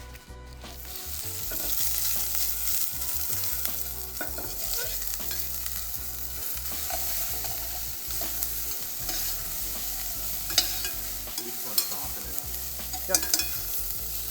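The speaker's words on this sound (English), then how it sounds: "we're just gonna crumble our savory breakfast sausage from our butcher department" Crumbled savory breakfast sausage sizzles and fries steadily in a pan, with scraping stir sounds and a few sharp utensil clicks near the end; one brief spoken word.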